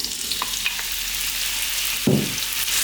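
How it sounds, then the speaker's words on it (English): Small potatoes fry in hot sunflower oil in a pan, a loud, steady close sizzle with a brief stirring clatter partway through. "I've got some sunflower oil in there, heating up, and we're going to drop in our potatoes."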